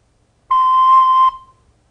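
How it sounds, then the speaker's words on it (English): A recorder plays a single sustained C note, a pure steady tone lasting under a second, clear and close, with a short fade and no talking. "that is a C. And it sounds like this."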